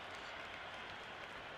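Steady crowd applause and cheering in the cricket video game Cricket 26, an Ashes Test between Australia and England, a continuous wash of clapping filling the whole moment without pause.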